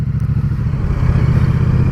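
A 2017 Triumph Street Cup motorcycle engine revs steadily up close, a loud continuous mid-pitched drone with a rough, pulsing exhaust note and no voices over it.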